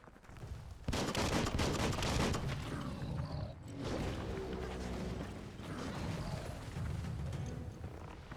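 Weapon reloading in the Biomutant video game: dense mechanical clatter and ratcheting over continuous gunfire-like bursts, loud and busy throughout, without speech.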